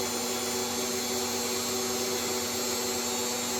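Steady whirring motor hum of a Weston meat slicer running while slicing bacon, a constant even drone with no breaks and no talk.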